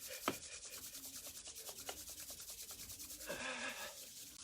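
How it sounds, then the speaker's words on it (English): Two palms rubbed briskly together to build heat, a soft dry swishing in steady back-and-forth strokes, close and fairly quiet, with a slightly stronger burst of friction near the end. "we're going to rub our palms together and generate some heat between the palms"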